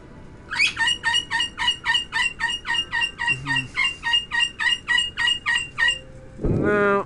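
Coco, a pet bird, gives a long run of rapid, evenly pulsed loud calls lasting several seconds, then a brief harsher squawk near the end, close and clear with no talking.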